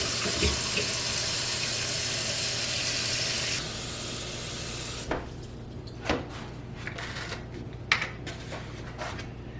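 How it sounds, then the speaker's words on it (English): Water runs from a tap into an empty kitchen sink as the basin fills. A loud, steady rush carries on for a few seconds, then drops to a quieter flow broken by a few sharp clinks and splashes. "you're going to put the plug in each side and fill it up"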